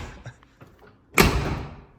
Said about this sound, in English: Let's shut the door. See how it shuts.